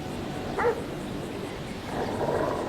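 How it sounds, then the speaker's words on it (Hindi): Recorded dog barks played through a loudspeaker rigged as a fake guard dog in GTA 5, giving a short muffled bark early and a rougher growling burst near the end over steady background noise. "इसने स्पीकर लगा रखा है और उसमें कुत्ते की आवाज फिट कर रखी है"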